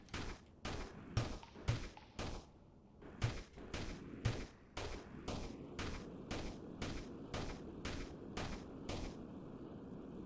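Gunfire in the sandbox factory game Sandustry, a rapid run of sharp repeated shots in a steady rhythm lasting the whole stretch, fairly loud and close, with no talk.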